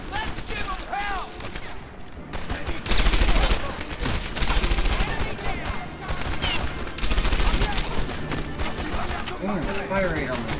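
Rapid automatic gunfire in a first-person shooter, sustained fast bursts cracking in waves with loud peaks, while players shout over the shooting.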